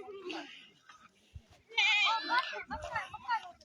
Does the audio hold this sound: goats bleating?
yes